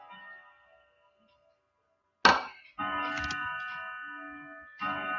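A wall clock chiming eleven o'clock, with a sharp mechanical strike followed by long, ringing tonal chimes that sustain and repeat, clear and close with no talk.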